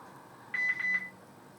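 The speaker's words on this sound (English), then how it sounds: "That's my phone." A mobile phone beeping indoors during a makeup session, a short burst of a few quick high electronic tones, fairly faint against a quiet room.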